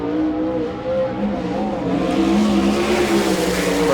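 A USAC sprint car on a qualifying lap at Rossburg, a Ford-powered Stealth chassis, roars loud and steady, the engine note climbing as it accelerates through the run with no talk over it.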